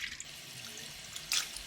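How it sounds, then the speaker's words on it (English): Cabbages are rinsed under running tap water, a soft continuous splashing and trickling with a brief brighter surge of water near the end, fairly quiet and without voices. "rinse the cabbages through 3 times under running water, changing the water each time"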